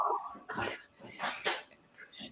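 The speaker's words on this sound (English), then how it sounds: "Yeah, the dogs are wanting attention." Dogs whimpering for attention, several short soft whines and yips close by.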